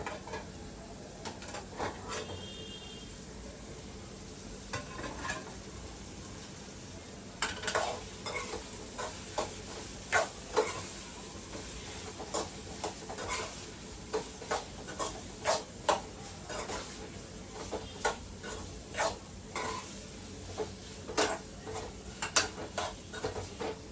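A spoon stirs carrot curry in a cooking pan, scraping and clinking in repeated bursts over a steady sizzle, with no talking.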